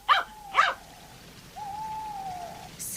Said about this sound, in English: Almost immediately, Timmy began to bark.